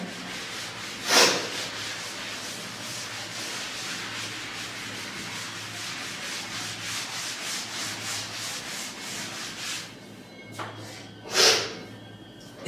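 Steady scrubbing of a duster rubbing chalk off a classroom blackboard during a maths lesson, a continuous rhythmic swishing for about ten seconds, with a sharp knock near the start and another near the end.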